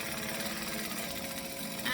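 Sewing machine stitching a handbag with a back stitch, a steady fast mechanical whir and rattle running continuously, close and fairly quiet.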